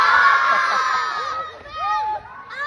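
A crowd of children shouting and cheering together in a rowdy, overlapping chorus of high voices, close by and continuous throughout.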